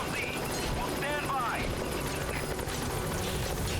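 A military helicopter in Metal Gear Solid V: The Phantom Pain thrums with a steady rotor chop and engine roar, loud and continuous, while a voice speaks over it.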